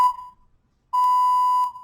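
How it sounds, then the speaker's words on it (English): An exercise timer in a total body conditioning class gives a short electronic beep, then, after a pause, a longer sustained beep, both loud, clear and steady in pitch. "Oh, yay, timer."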